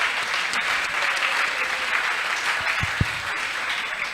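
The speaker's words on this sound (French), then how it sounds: "Est-ce qu'on peut acclamer ceux qui sont dans la salle?" Audience in a youth revival hall at a French-language talk show clapping continuously, a dense steady wash of applause with a few sharper claps near the end.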